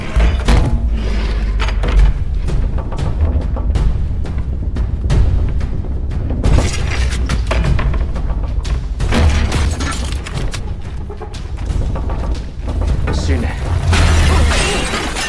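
Glass shatters during a fistfight between martial artists, loud crashes, thuds and smashing impacts packed densely through a dense, busy movie soundtrack with music underneath.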